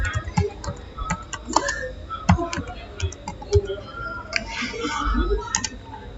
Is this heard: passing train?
no